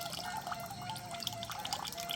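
Liquid poured into a farm sprayer tank, a steady close stream with dripping splashes over a faint background hum.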